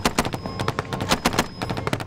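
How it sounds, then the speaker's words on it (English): Rapid exchange of gunfire during an army patrol with the Mercian Regiment in Helmand, Afghanistan: dense, sharp cracks and bursts in quick irregular succession, loud and close, with a faint steady tone underneath. "This exchange of fire was so routine that they cracked jokes about how close the bullets came"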